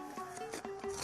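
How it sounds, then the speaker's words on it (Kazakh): A farrier scrapes and rasps the sole of a horse's hoof before shoeing, in a village setting, with several short, close scraping strokes in quick succession. "Ат тағалар алдында табанын тазалау."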